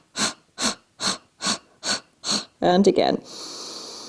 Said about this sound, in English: Let's do a little bit of pulsing with the breath.